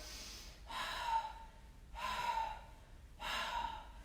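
Three long, breathy exhales during a yoga core exercise, each lasting about a second and spaced at a steady rhythm, close and moderately loud, with no talking.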